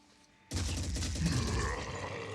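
Gunfire from a firefight in the tactical game Phoenix Point bursts in abruptly after a quiet lead-in, then holds as a dense, loud, sustained rattle of shots and impacts.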